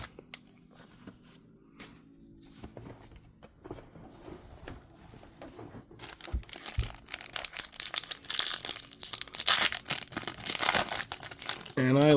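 Trading card packs being power-ripped open, quiet at first, then a run of loud close crinkling and tearing foil wrappers in rapid bursts, with a voice talking over parts.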